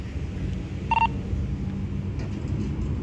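A single short dialing tone from a phone, brief and clear, rising over a steady low rumble of background noise.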